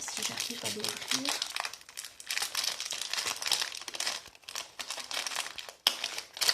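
Plastic packaging for circle-shaped cutting dies being crinkled and torn open, a continuous close, busy rustle with sharp crackles and a brief voice at the start.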